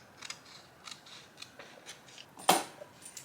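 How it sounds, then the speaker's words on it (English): Scissors snip off material while fixing a sublimation tumbler: a series of soft, crisp cuts builds to one sharp, loud snip near the end, close up and quiet between strokes. "I'm going to cut this off."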